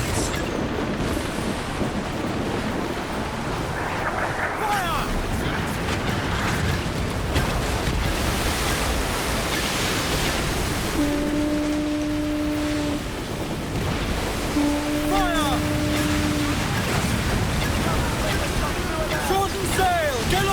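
Squall at sea in Assassin's Creed Black Flag, steady roaring wind and crashing waves filling the scene, with shouted voices and horn-like tones rising over the storm.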